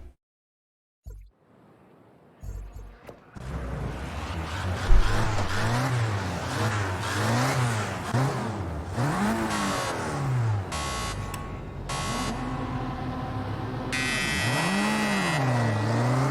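Race car engine in Project Cars 2 at the start of a race at Sonoma, first quiet, then a loud sustained roar that revs up and down in repeated sweeping surges as the car pulls away, with occasional electronic beeps.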